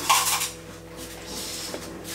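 Small spoon clinking and scraping in a bowl of noodles with sautéed beef and broccoli, a brief metallic stir near the mic, then quiet faint scraping.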